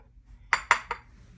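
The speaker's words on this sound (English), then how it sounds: "that's why my dishes are being washed the way they are" Dishes being washed in a laundry room sink: three sharp clinks of dishware in quick succession, close and clear, followed by a fading ring in a quiet room.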